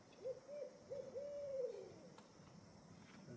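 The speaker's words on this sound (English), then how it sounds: "That's another real owl." A real owl hoots outdoors at night in the Arkansas woods, a soft low series of several hoots running together over about a second and a half, faint and distant against steady insect hiss.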